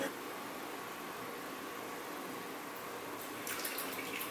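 Smartmouth milk stout beer poured into a glass, a steady close hiss and gurgle of liquid running continuously, with a few faint clinks near the end.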